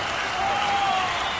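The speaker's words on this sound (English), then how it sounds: "give a big round of applause for Soundwave" Audience applause and cheering after a Kingdom Hearts Final Mix finale, a short, dense burst of clapping that holds steady at moderate loudness throughout.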